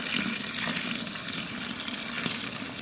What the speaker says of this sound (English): So we're gonna add a little bit of water.